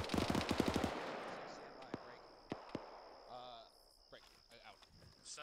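Rapid bursts of automatic gunfire crack close by in a field training exercise near a town, followed by scattered single shots and distant pops while crickets chirp and people talk quietly in the background.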